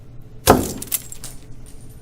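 A frozen onion shattering like glass: one sharp, close crack and break with a brittle splintering tail, followed by a few faint clinks of fragments.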